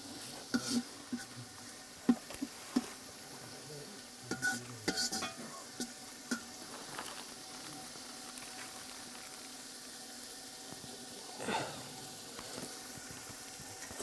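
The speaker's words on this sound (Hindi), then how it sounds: "अब इसको चला देंगे। जी वाह, तेल कम रहेगा, ठीक है, हल्का आँच से ना।" Chicken frying in a little oil over a low flame is stirred with a utensil, bringing scattered scrapes and clinks against the pan over a steady soft sizzle, with one louder stirring swish near the end.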